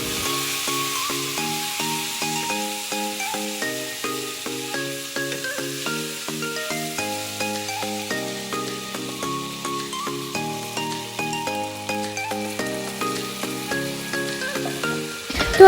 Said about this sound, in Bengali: তো আদা রসুন লঙ্কার পেস্টটা আমি দিয়ে দিলাম